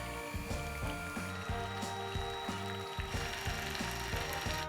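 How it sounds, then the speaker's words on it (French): An electric mixer at low speed whips cold chocolate mascarpone cream. It makes a steady whirring drone with rhythmic mechanical clicking and rattling from the beaters, close and continuous. "Et on va commencer à fouetter tout simplement."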